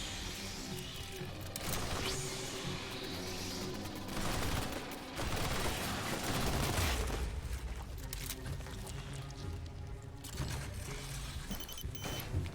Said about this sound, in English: Oh, you're shooting with a gun?